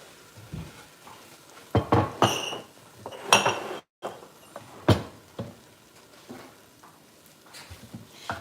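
A knife chopping spring onion on a board for a maize cake garnish, a few irregular sharp knocks and taps with quieter clinks between.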